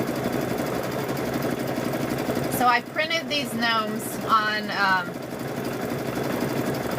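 A sewing machine stitches down patchwork on a quilt, its needle running in a fast steady mechanical whir that stops briefly while a person talks, then resumes.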